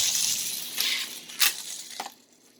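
A race car in a video game slams into a pile of wrecked cars at the Glen, a loud crunching impact followed by a couple of clinking knocks that fade out.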